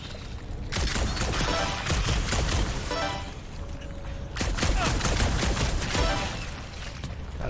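Rapid bursts of gunfire in combat in the video game Marvel's Guardians of the Galaxy, dense and loud almost throughout with a short lull in the middle, chattering shots layered over game effects.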